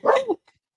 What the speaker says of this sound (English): you hear the barking